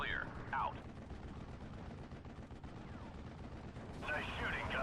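Tank gunfire from M4A1 Shermans in the video game Steel Division: Normandy 44 at Pointe du Hoc, dense rumbling shots and battle noise throughout with radio-style voices talking over it.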